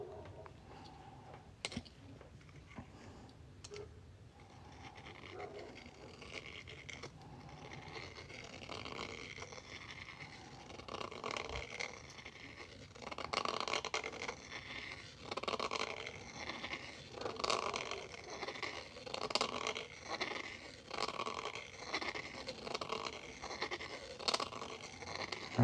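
Metal being cut from a 1995 half dollar coin ring, with close, steady scraping, rasping and small clicks running throughout and growing slightly busier toward the end.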